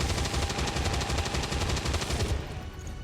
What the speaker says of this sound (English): one of the mods that I grabbed has changed up the way that the cannons sound so that they sound more like a heavy weapon